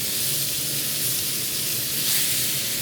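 Butter melting in a hot pan before a steak goes in, giving a steady, even sizzling hiss that holds at a constant level throughout, close and fairly loud with no talking.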